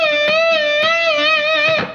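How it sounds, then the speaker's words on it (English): High-gain distorted electric guitar rings out tapped harmonics struck on the fret wire, a sustained bright chiming tone with a few sharp tap attacks, close and loud with no talking. "we can tap right on top of the fret wire"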